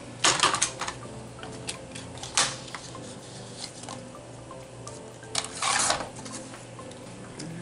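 Scissors snipping through folded scrapbooking paper, a run of crisp clicking cuts with a few louder rustling bursts, close and alone in a quiet room.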